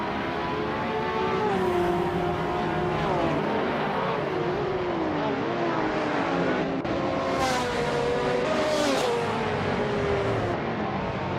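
Race cars, among them a 1995 Marcos LM 600 GT2, scream around a circuit, engines rising and falling in pitch through gear changes as several cars pass close and loud, with no talking.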